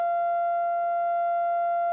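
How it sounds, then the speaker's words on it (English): A steady pure sine test tone from a phone tone-generator app holds one unwavering pitch with faint overtones, constant and fairly loud for the full two seconds, with no other sounds. "I'm going to use an app on my phone that generates a tone and turn it on"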